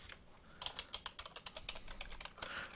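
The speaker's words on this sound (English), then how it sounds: "my second PS2 keyboard is a IBM style mushy pad type keyboard" Someone types on an IBM-style mushy PS2 computer keyboard with membrane-type keys: a steady run of soft, quiet key presses in an irregular rhythm, close by with faint background hiss.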